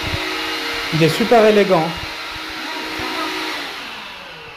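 Electrolux bagless handheld vacuum cleaner humming steadily at one speed, a continuous whirring drone beneath a French-speaking voice.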